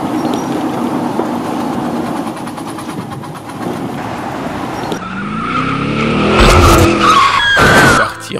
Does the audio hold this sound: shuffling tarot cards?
no